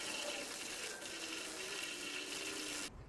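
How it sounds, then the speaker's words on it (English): A hose flushes water hard into a blocked sewer drain, a steady close gushing rush that holds for nearly three seconds and then cuts out abruptly near the end. "I'm going to flush this drain out first."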